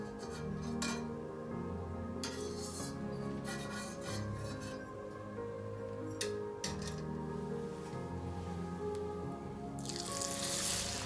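Rice chakli (murukku) frying in hot oil, a steady soft sizzle with scattered small ticks and crackles that swells louder near the end, with no talking.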